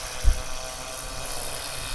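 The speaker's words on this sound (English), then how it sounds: "He's down landing the drone." A small drone buzzes steadily as it flies in to land near a fire tower, a constant moderate whirring hum with a brief low thump near the start.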